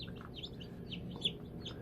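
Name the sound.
newly hatched chicken chick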